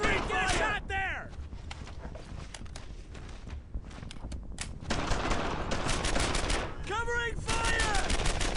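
Dense World War II gunfire in Brothers in Arms: Earned in Blood as a squad clears a German-occupied French village, with rapid rifle and machine-gun shots that thin out midway, then swell again under shouting soldiers' voices.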